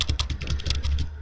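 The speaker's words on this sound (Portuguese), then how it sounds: "Eu sei que vocês estão ouvindo o barulho do meu teclado" Rapid, close clacking of a computer keyboard being typed on during a Resident Evil 4 play session, a steady run of crisp keystrokes with no voice over it.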